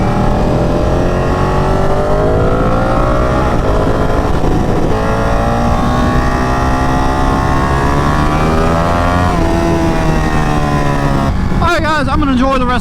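A Ducati Panigale 959 motorcycle is ridden downtown at night. The engine hums steadily and shifts pitch as it speeds up and eases off, mostly under continuous talking, with a rising rev near the end.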